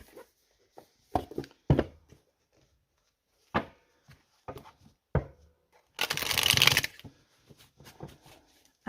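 Tarot cards being shuffled by hand, a few short riffling bursts and taps, then one longer dense riffle near the end, close and fairly quiet with no talk.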